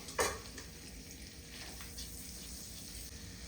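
Bay leaves, cinnamon and clove frying in butter in a hot pan, a soft steady sizzle with a brief sharp clatter at the start, faint and close.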